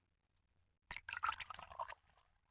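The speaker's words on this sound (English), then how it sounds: "I would have some green tea or whatever, and I would just pour it like this just for the sound" Green tea poured by hand into a cup, a close, soft splashing trickle lasting about a second, preceded by a faint tap and left alone without talk.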